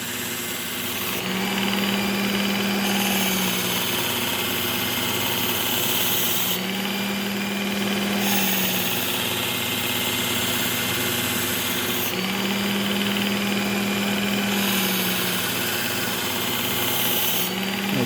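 A kitchen knife sharpened on a powered wheel, the motor whirring loudly and steadily throughout while the blade makes repeated grinding passes about every five seconds, with no speech.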